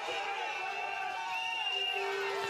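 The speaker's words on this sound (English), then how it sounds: "It's great to see the crowds come out. There's plenty of noise in this lower wood." Crowd cheering and whooping beside a downhill mountain bike race track in a wooded section of the course, a steady wash of shouts and horn-like calls at moderate distance.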